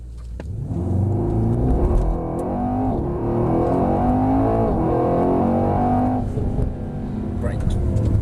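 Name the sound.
Mercedes AMG car accelerating at full throttle on track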